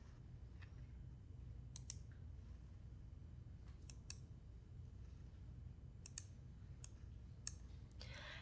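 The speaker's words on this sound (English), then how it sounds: "I'm going to right-click on this folder" A computer mouse clicks to right-click on a folder, with sharp isolated clicks spaced irregularly, some in quick pairs, over a faint steady room hum.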